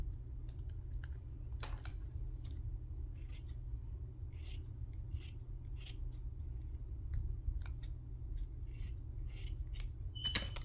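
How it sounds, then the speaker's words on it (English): Scissors snip around a craft embellishment in a series of irregular close, crisp cuts over a steady low background hum. "I'm just gonna lay it on there and then I'll cut around."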